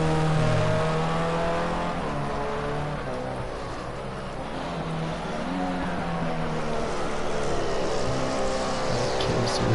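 A racing car engine in a PS4 racing game drones steadily throughout, its pitch shifting as it revs, with a continuous mechanical hum and no pauses.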